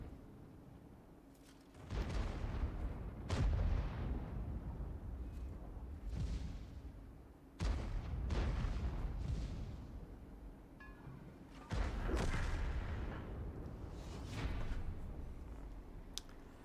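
Gunfire from an enemy Scorpion ship in Elite Dangerous arrives as several heavy, booming bursts that each roll off into a rumble, spaced a few seconds apart over a steady low background hum.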